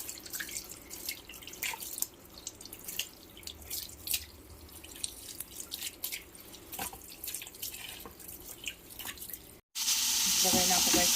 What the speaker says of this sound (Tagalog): tapon ko muna yung unang kulo. Hugasan ko siya ulit para yung kanyang amoy mawala.